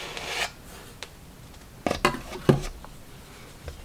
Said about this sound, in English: So I'm just going to very gently scrape that.